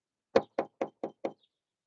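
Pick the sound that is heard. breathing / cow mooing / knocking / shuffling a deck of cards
knocking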